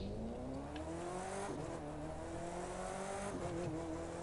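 A Porsche's engine in The Crew 2 racing game revs and drones steadily, with gear-like pitch shifts and brief dips as it accelerates, loud and continuous without talk.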